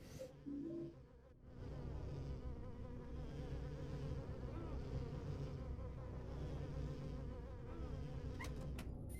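Bat mosquitoes in Silent Hill 4 produce a sustained, wavering insect buzz that swells in after a brief lull and then hums on steadily, with a few faint clicks near the end and no voices.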